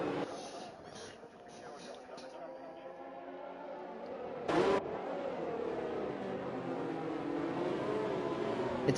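Race cars in an F4 sim racing game lap behind the safety car in Azerbaijan, engines humming and revving at moderate distance, with one sharp burst partway through and a commentator talking over them.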